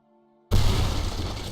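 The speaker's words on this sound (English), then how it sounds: "Nice explosion, Wiley." A barrel bomb in the video game Signs of Life detonates with a sudden loud boom after a short quiet lead-in, followed by a sustained rumbling roar that slowly fades.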